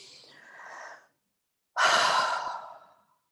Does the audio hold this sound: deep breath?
yes